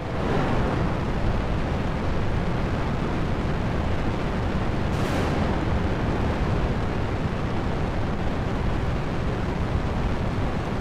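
A rocket blowing up in the video game Kerbal Space Program during a dry launch, heard as a sustained loud roaring rumble that fills the whole stretch, with a brief hiss burst near the middle and no talking.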